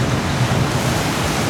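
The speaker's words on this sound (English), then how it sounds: "You can see them coming down for the big splash here." Log flume boat at the Beech Bend amusement park splashing down into the water, a steady loud rush of spray and churning water with no clear break.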